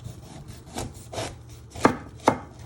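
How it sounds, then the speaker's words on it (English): A knife chops an onion on a cutting board: a few soft, muffled chops, then two sharp, loud cuts near the end. No one speaks. "You're first going to chop your ends off."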